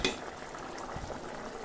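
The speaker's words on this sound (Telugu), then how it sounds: "సో ఇది కొంచెం బాయిల్ అవనిద్దాం, తర్వాత చూద్దాం." Drumstick curry gravy bubbles in a pot with a soft, steady simmering burble and faint popping, close and fairly quiet.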